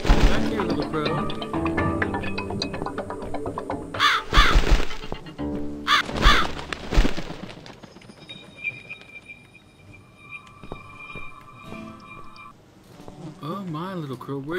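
A crow caws in the video game The Cat Lady, with a few short harsh calls near the middle set among game music, ambient tones and buzzing insect-like sounds, while a voice talks over parts of the scene.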